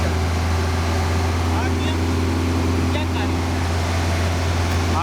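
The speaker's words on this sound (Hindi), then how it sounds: "ये देखिएगा, इसका रेस देना बस, इससे ऊपर ये नहीं जाएगा" A car engine revs steadily as the accelerator is pressed and held, giving a loud, constant droning hum close by, with voices talking over it.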